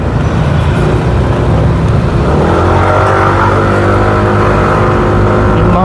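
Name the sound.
passing cars on the road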